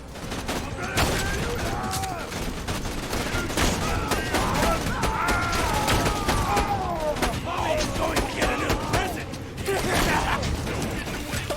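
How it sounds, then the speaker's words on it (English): Rapid bursts of explosive pistol fire in a video game crackle and pop over clattering mechanical game sounds and music, with people talking throughout. "There's an explosive pistol."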